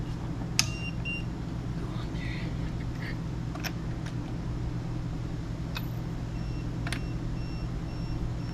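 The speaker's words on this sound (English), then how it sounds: "that's our tire pressure monitor going off because the tire's losing its air" A tire pressure monitor alarm beeps on a vehicle at a campsite as a tire loses air, giving a few short, sparse electronic beeps over a low, steady rumble.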